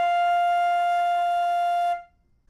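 A flute sustaining a single steady F note on the top line of the staff, clear and pure for about two seconds before stopping cleanly, played alone.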